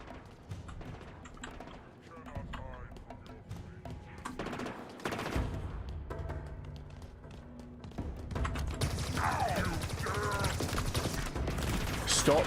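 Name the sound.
enemies shooting at player in video game Halo Infinite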